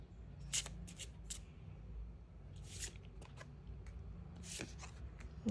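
Tarot cards being shuffled and drawn from the deck, with soft papery riffles and flicks coming in several short bursts spread over a few seconds, close and fairly quiet, with no talking.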